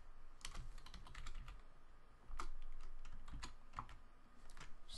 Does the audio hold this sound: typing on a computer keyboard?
yes